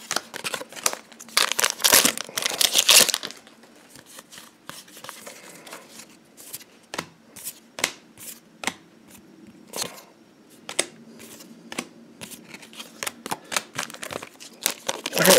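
Luck and Logic TCG booster packs are torn open and handled, with loud crinkling foil wrapper tearing at first, then a long run of sharp clicks and card flicks, close up and with no talking.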